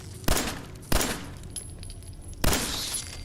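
Gunshots in Fallout 4: three sharp, loud reports at uneven intervals, each decaying quickly over quieter ambient game noise, with no talking.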